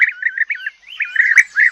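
A European bee-eater sings a run of rolling, liquid trilled calls, close and clear, with short pauses between phrases and a brief click partway through.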